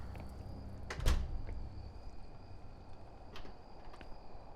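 In the horror game Song of Horror, an unlocked door opens with one sharp thunk followed by a low creak, then quiet room ambience with a faint later click.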